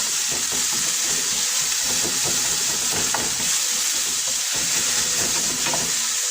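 Seafood marinara with red capsicums frying in a pan, a loud constant sizzle and steam hiss with frequent scraping and clattering as the mixture is stirred close by.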